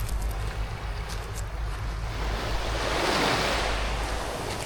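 Sea waves at a beach in Batangas wash in with a steady surf roar that swells louder toward the end, with wind buffeting the microphone.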